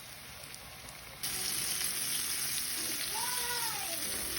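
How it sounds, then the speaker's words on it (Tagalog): Chicken pieces coated in a seasoned breading mix frying in hot oil, heard as a quiet, steady hiss that starts abruptly and continues evenly to the end. "Binalot ko na ito sa breading mix na aking tinimpla kanina. Inumpisahan ko na itong prituhin."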